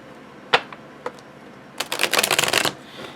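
A deck of playing cards being riffle shuffled and bridged, a few sharp isolated flicks followed by a rapid, loud fluttering burst of cards close by, with no talk.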